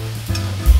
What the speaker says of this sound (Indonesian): selanjutnya tinggal kita masak sampai dagingnya ini setengah matang